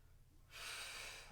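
An exhale during yoga abdominal crunches: quiet at first, then a long, steady breath out through the mouth that starts suddenly and holds for most of the moment, close and fairly loud, with no talking.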